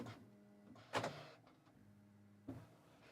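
Motorized vents on a Bambu Lab H2D 3D printer flipping open on their own: a soft mechanical whir with two sharp clacks a second and a half apart, quiet and close with no talking.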